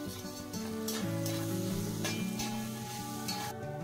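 Onions frying in a pan for pav bhaji give a steady, close sizzle with a soft, continuous hiss and occasional stirring scrapes under a sustained tonal hum, with no talking.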